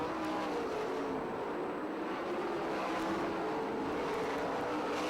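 Sprint cars racing at Perris Auto Speedway roar past in a continuous loud engine drone, a steady dense howl with slight rises in pitch as the cars sweep around the dirt oval.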